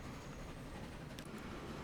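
A train rolling along in the video game Transport Fever 2, a steady low rumble of rail traffic with a faint clatter, continuous and moderately loud with no talk.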